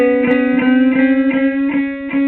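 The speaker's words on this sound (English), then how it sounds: "We're going to bend up a whole step," A guitar string on the B string, bent up a whole step to C sharp with the second fret held, sounds as a steady sustained tone with about five quick upward pitch bends repeating in close succession, loud and alone.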